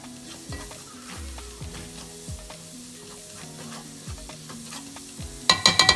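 Spices stirred in a hot pan for butter chicken, a steady sizzle with repeated scraping strokes of a utensil, close and continuous, ending with a few quick metallic clinks.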